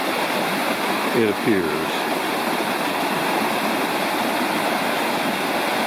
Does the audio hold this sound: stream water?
yes